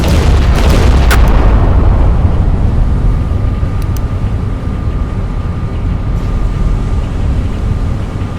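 Warship guns in the naval video game Battleship Command fire, producing a loud, continuous booming rumble that fills the whole stretch, with heavy low-end roar and a few faint higher ticks near the start.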